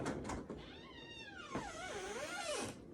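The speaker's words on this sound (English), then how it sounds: "I'm just going to go ahead and close the door behind me for privacy" Door in an exam room being closed, with a few soft knocks and then a long, wavering hinge creak that rises and falls for about two seconds, heard fairly close.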